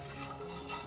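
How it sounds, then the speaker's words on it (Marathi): Wild karonda berries for a Konkan village-style pickle are stirred with coarse salt and turmeric, producing a short, soft, continuous mixing rustle close by. "थोडंसं मीठ 2 चमचे टाकलेत आपण आणि मस्तपैकी असं मिक्स करून घ्यायचंय"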